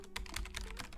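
Fast keystrokes on a computer keyboard, close and clear, a rapid run of clicks with slightly uneven timing and no talking.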